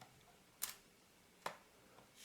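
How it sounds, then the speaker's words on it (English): Cocking the shutter on a Hasselblad Planar C 80mm f/2.8 lens with a sticky shutter, heard as two sharp, quiet mechanical clicks about a second apart, followed by a fainter tick, in an otherwise silent room. "cock the shutter"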